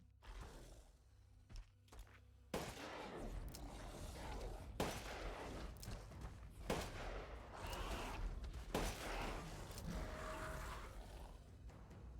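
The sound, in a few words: Wolfsbane gunshots in video game Resident Evil Village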